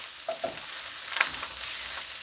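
Leftover turkey and chicken stir fry sizzles in a pan with garlic and herb seasoning while being stirred, steady frying hiss broken by a few scraping clicks of the utensil, close and without talk.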